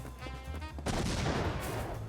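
A house bursts apart in the firefighting video game Embr, a sudden loud crackling blast that breaks in after a short lull and keeps roaring briefly.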